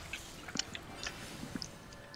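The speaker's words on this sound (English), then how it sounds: "You're also chewing with your mouth open" Wet, open-mouthed chewing at a live-streamed party, with scattered smacking and squishing bites spread irregularly across a couple of seconds, fairly close and soft against a faint room background.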